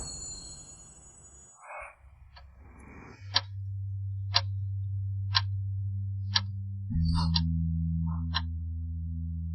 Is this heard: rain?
no